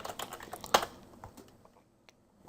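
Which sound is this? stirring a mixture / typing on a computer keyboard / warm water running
typing on a computer keyboard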